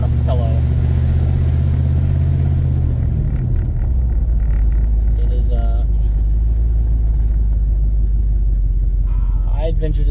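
Interior of a moving Cadillac with a 472 engine, a loud, steady low road rumble and engine drone, with a person talking over it.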